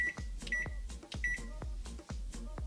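An oven control panel being set to bake at 350 degrees gives several short electronic beeps mixed with soft button presses, heard close and alone.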